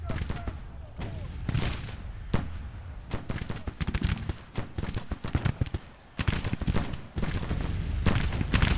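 Musket volleys crackle in dense, overlapping rolling bursts across a Civil War battlefield in a strategy game, loud and continuous, with someone talking over the gunfire.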